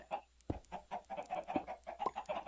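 Several chickens clucking in a pen in Minecraft with the FTB modpack, a busy, close string of short clucks and squawks with a few sharp thumps mixed in.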